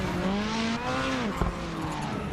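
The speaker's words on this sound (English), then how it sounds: "he's probably going to do some victory burnouts" Race car tires squeal through victory burnouts in an iRacing rallycross feature at Knockhill, a long rising whine that bends and sweeps, with a brief thump near the end, loud and close with no talk.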